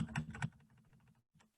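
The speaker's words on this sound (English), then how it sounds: "So you can just bring this down with your keyboard, your arrows" Arrow keys tapped on a computer keyboard, a quick cluster of crisp clicks followed by a softer run of light keystrokes, a short pause, then one more tap, close and quiet.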